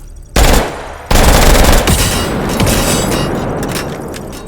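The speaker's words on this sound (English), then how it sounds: "high rate of fire full auto weapons are also good for those" Full-auto weapon fire in the VR shooter H3VR: a loud, dense burst of rapid gunfire kicks in, breaks off briefly, then returns as a sustained roaring volley that slowly tails off.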